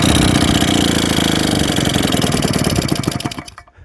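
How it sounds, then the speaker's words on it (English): A JAP 36cc two-stroke engine driving a Stuart water pump runs loud and close with a rapid buzzing putter, then bogs down and dies out in the final moments. "Now, this little engine just hasn't got the power to drive this pump."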